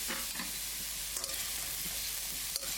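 Chopped vegetables and celery crackle and sizzle steadily in a hot pan, a dense hiss close by with occasional sharp scraping stirs.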